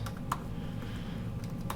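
Keys tapped on a computer keyboard while building a Ruby on Rails app, a few distinct close clicks spread over a quiet, steady room hum with no talking.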